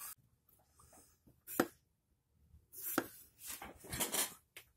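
A TUO Damascus fillet boning knife, 6 inches, slices thin cuts through a potato on a board, giving quiet, close scraping and tapping strokes in uneven bursts with brief pauses between them.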